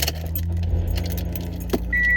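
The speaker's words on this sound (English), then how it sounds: "So I'm going to turn my car on real quick." Keys jangle in a few quick bursts, then a car engine turns over and settles into a steady idle hum, with a thin electronic chime starting near the end.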